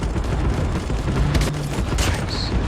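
Call of Duty Mobile battle royale gunfire: dense bursts of shots and booms crackle continuously at close range, loud and chaotic, with no speech.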